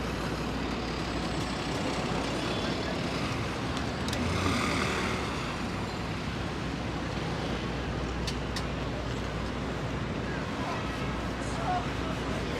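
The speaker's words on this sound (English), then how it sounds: "Traffic moving at a snail's pace here" Slow-moving street traffic in Manhattan, New York City, a steady broadband rumble of idling and creeping vehicles with a truck's low drone and occasional brief hisses, continuous and fairly close throughout.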